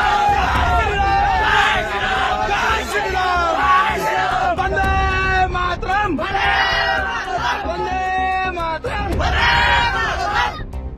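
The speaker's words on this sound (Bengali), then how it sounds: "দুপ্রান্ত থেকে উঠল স্লোগান" A large crowd of local villagers gathered at the India-Bangladesh border chants slogans in loud, rhythmic, repeated bursts of massed voices, continuous and close with shouting and babble throughout.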